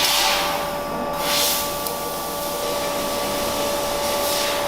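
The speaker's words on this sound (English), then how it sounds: "You can see the laser head moves all the way to the left, where the chuck just grabs on any profile" A CNC laser tube cutter runs with a steady, loud mechanical hum and whirring hiss, a constant tone holding throughout with slight swells as the head travels, no voices present.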